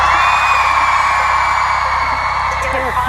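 A big audience at a We Day youth event screams and whoops loudly, a dense, sustained wall of crowd noise with individual shrieks rising above it.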